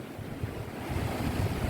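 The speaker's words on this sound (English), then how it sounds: "Right on the edge of the ocean." Ocean waves wash steadily against the shore in Jamaica as wind rushes across the microphone, a continuous broadband roar that swells slightly louder toward the end, with no voices.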